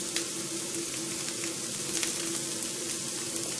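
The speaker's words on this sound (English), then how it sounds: "we're sort of browning the breadcrumbs in the olive oil" Breadcrumbs browning in olive oil in a pan give a steady, close sizzle and crackle that runs the whole time with no voices over it.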